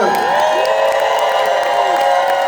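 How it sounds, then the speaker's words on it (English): A convention audience at a Lost Boys panel stands and screams for the cast, a dense, sustained wall of cheering and shouting from a large crowd that stays loud and steady throughout. "please stand up and scream for the cast of The Lost Boys"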